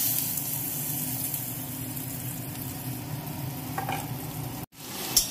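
Ghee sizzles with cardamom and bay leaf for payesh, a steady close frying hiss with faint crackle, briefly cutting out before a short clatter at the end.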